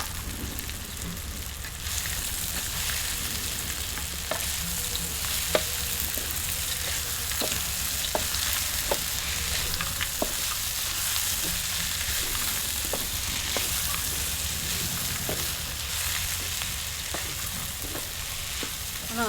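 Potatoes and peanuts sizzle steadily in hot spice masala for pova bateta, with a loud continuous frying hiss broken by regular scraping knocks of stirring.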